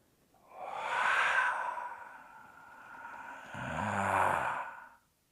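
A long, audible exhalation during a taiji brush knee twist step, a breathy sigh that swells, eases, then swells again before fading, close and alone.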